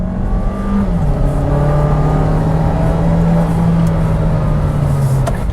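A Kia Seltos SX Turbo with a dual-clutch transmission pulls hard under full throttle, its steady loud engine drone rising in pitch, with a brief dip at a quick shift before climbing again.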